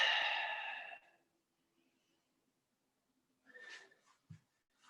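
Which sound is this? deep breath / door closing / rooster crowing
deep breath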